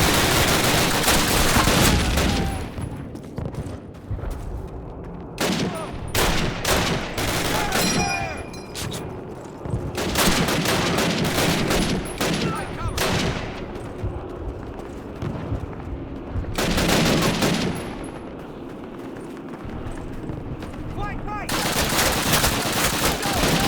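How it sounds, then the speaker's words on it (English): Sustained bursts of MG42 machine gun fire in a Call of Duty game, loud and continuous with brief gaps, as a player shoots from inside a garage; a voice is faintly present under the gunfire. "he's just in a garage, basically, just firing that MG42"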